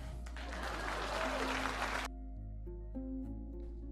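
A burst of applause rings out for about two seconds, then cuts off abruptly, leaving a low steady hum.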